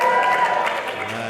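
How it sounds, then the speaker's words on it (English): A crowd at a postdoc appreciation event cheers and claps, a dense, loud burst of applause and voices that fades slightly toward the end. "give me a cheer if you are a postdoc yourself"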